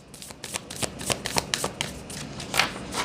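A deck of tarot cards is shuffled close up in a rapid run of crisp riffling flicks and soft slaps that continues steadily without any talking.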